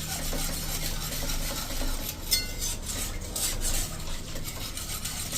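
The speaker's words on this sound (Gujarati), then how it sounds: "એટલે આ રીતે તમારે પરફેક્ટ પહેલાં મિક્સ જ કરી લેવાનો વિસ્કરથી" A whisk stirs rice flour and water into a batter in a bowl, giving a steady, close scraping and swishing with light clinks against the bowl, with no talking.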